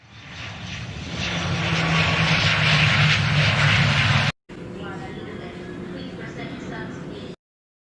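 Aircraft engine effect for a special flight landing in a Sunday school Christmas skit, a loud, steady roaring drone that swells in, cuts off abruptly for a moment, then resumes briefly before stopping.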